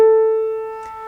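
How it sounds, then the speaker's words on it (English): A single clear sustained musical note A, a pure pitched tone with overtones that slowly fades, followed by a faint brief noise. "Sometimes A's sound like this."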